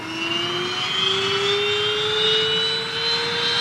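A specially equipped NASA jet in flight over California's San Andreas Fault, its engine giving a steady, loud roar with a slowly rising whine throughout, no voices.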